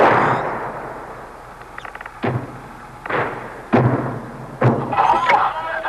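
Syrian guns opening fire in an artillery exchange with Israeli forces, a series of five or six muffled, distant booms spaced about a second apart, each thump followed by a rolling decay.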